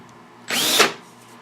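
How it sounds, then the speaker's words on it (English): A countersink bit whirs briefly against a screw hole in an aircraft instrument panel while deburring it, one short close burst of about half a second with a faint tone rising in pitch. "I do have this countersink here, and I just lightly go over these screw holes and take the burrs off of them with it"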